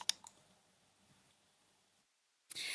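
A mouse click on an Add button, one sharp click near the start followed by a faint second tap and quiet room tone, then a sudden burst of broadband noise at the end.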